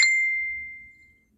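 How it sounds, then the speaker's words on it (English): One clear mobile phone notification ding, a bright single tone that rings out and fades smoothly over about a second, alone and fairly close. "My phone keep going off."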